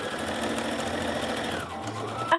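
A sewing machine runs steadily as it stitches a small apron made from a bed sheet, a close, even mechanical whir that slows and stops with a final clunk.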